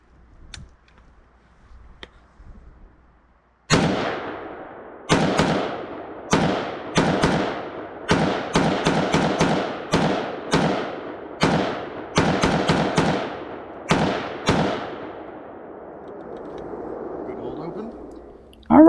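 A preban-style SIG SG-551 carbine fires on an outdoor range, a string of sharp, loud single shots with echoing tails, spaced irregularly roughly every half second to a second over about eleven seconds, after a quiet start.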